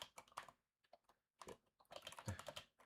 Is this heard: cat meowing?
no